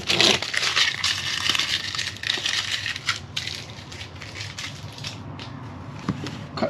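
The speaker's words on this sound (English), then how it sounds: "Just gotta take the blue tape off." Blue painter's tape being peeled off around a newly fitted 120V outlet in a Grand Design Imagine 2800BH RV, a close, crackling, sticky ripping with scattered small snaps that tapers off toward the end.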